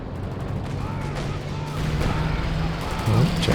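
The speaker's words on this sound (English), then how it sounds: "Forced back by the double anti-tank guns" Battle in the Company of Heroes 2 video game with twin anti-tank guns firing, booming shots and rumbling explosions layered under continuous combat noise and a caster's voice.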